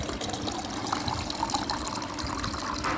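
Water poured from a jug into a pot, a steady close splashing stream lasting about three seconds before stopping abruptly, with no talking.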